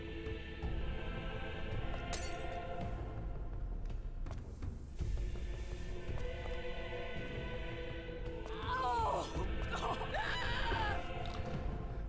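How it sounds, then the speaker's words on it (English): A scream rises from a character in the stealth video game Hitman: Blood Money, sharp and wavering for a couple of seconds near the end, set against a dense, steady bed of game music and ambience. "Nobody noticed the scream"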